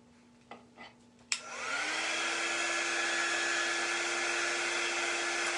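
After a few clicks and a sharp switch-on, a hair dryer roars steadily and loudly, blowing air across a chalk-painted board and holding a constant whine to the end.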